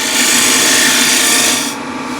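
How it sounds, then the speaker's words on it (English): A bowl gouge takes a scraping cut on a spinning wooden bowl on a lathe, producing a loud, continuous harsh rasp close up that eases off slightly near the end. "that was sort of a scraping cut with the left wing"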